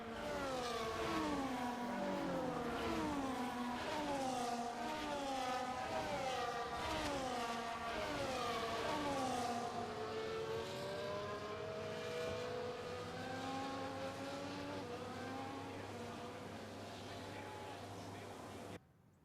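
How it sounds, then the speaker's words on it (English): Formula 1 cars in the F1 24 racing game cruise back toward the starting grid, several engines whining and revving together in overlapping rising and falling tones, steady and prominent, easing slightly before cutting off. "As the cars come back towards the grid to line up for the start of the race"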